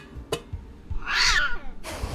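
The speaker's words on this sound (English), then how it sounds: "Then she heard a meow." A cat meows once as a sound effect in a spoken scary story, a single drawn-out rising and falling meow preceded by brief soft knocks and followed by a short burst of noise, close and clear.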